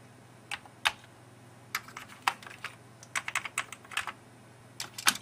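Keys pressed on a computer keyboard while trying to quit an Amiga game, with irregular clicks in loose clusters, some single and some rapid bursts, close and crisp over a low steady hum.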